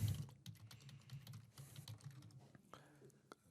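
A computer keyboard is typed on in quick, light keystrokes while registration details are entered, with a voice murmuring underneath.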